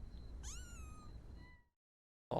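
A tiny kitten, one of five newborns with eyes not yet open, lets out a single rising meow over a low background rumble, then the sound drops to silence before a sudden noise at the end.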